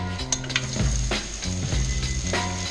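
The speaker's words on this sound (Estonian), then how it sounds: "Ja nüüd hakkabki kärstama." Oil sizzles in a frying pan, a close hiss with bursts of spattering and a few low knocks and scrapes of handling, steady and moderately loud over about three seconds.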